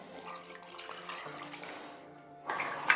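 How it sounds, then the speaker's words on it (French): A little water is poured into a pot of beef bourguignon: soft simmering bubbles, then a brief, close splashing pour near the end. "Là, je rajoute un peu d'eau parce que j'ai mes patates à faire cuire"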